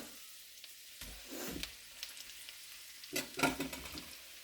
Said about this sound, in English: Now we're going to put in our potatoes.